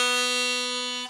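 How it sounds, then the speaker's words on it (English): A single sustained draw note on the one hole of a harmonica in the key of A, steady and clear for about a second before cutting off, close and alone. "So right now I'm drawing in on the one hole,"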